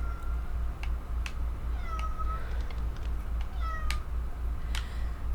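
Inside a video game, a cat gives two or three drawn-out meows spread over a few seconds, alongside soft clicking game sounds and a constant low hum.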